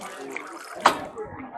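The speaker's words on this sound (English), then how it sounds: "you just use the leg to step, and then the water flows" Water runs steadily from a foot-pedal hands-free handwashing station into a basin, a soft continuous splash with a brief knock partway through, at low volume.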